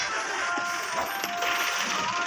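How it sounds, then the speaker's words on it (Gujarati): Truck tyres being worked off their wheel rims at a roadside stop, a dense metallic ratcheting and clanking of tools, steady and close with no talk. "આ ટાયરો છે ને આ વ્હીલ પ્લેટમાંથી કાઢવાના ચાલુ છે"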